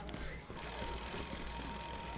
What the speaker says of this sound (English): So this is me trying to be a bit stealthy with that wind-up alarm clock